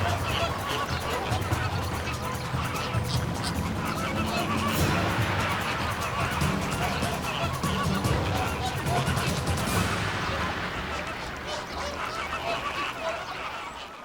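A flock of flamingos takes off together, loud overlapping honking calls and flapping wings filling the air, with a narrating voice running over the din before it thins near the end.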